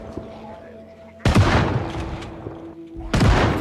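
Two heavy shotgun blasts from Project Zomboid (build 41), the first around a second in and the second near the end, each a loud broadband boom with a ringing tail over a quieter low hum.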